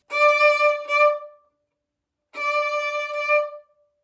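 Two sustained bowed violin notes on the A string, each lasting over a second, separated by a short silence.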